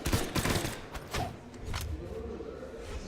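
Rapid bursts of gunfire crackle and thump through a competitive video game match at a tournament, dense volleys rolling over background game noise.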